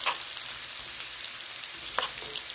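Garlic sautéing in hot oil, a close, steady sizzle with a couple of sharper crackles or stirs.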